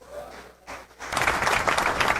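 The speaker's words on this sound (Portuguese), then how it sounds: "você podia aplaudir Jesus por isso" A brief pause, then a burst of audience applause rising and continuing steadily, dense clapping from a crowd at a church sermon.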